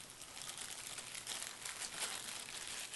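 Packaging crinkling as a Mooer Acoustikar guitar pedal is unboxed, a steady close rustle of paper or plastic, soft and continuous without any talking.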